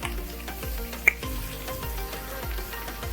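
A hash brown sizzling on a Blackstone griddle, a steady soft fry with faint crackles and one sharp tick, cooking close by with no talk.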